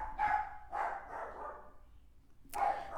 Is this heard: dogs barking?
yes